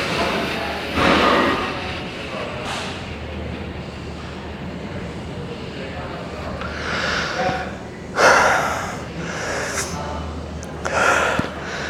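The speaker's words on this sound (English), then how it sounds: "breathe in, lift the chest up, and then breathe out" Deep breathing during a classic physique bodybuilding posing routine, with several loud, forceful exhales and sharp breaths in between quieter stretches of breath noise.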